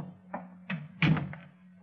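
A radio drama door effect with a few soft thunks, knocks and a latch clunk over a low steady hum, close and fairly quiet, spaced irregularly.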